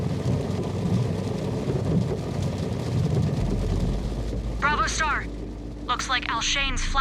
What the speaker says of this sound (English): Alshane's flash storms are finally here to greet us.